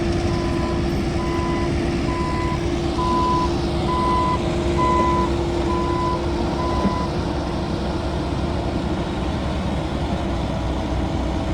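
A truck drives out from under a shipping container at a ranch, its reversing alarm beeping steadily in an even rhythm over a loud, constant engine rumble. The beeps stop partway through while the engine keeps droning.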